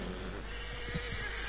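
A horse neighs in Red Dead Redemption 2, a faint, brief whinny low in the mix over a steady background hum, with no talk.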